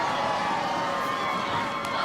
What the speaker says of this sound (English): These fans have woken up.